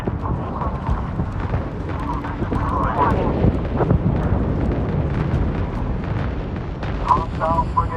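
An enemy frigate hit and exploding in the Homeworld 3 space strategy game, a steady rumbling barrage of blasts and thumps with scattered sharp impacts under radio chatter and combat voices.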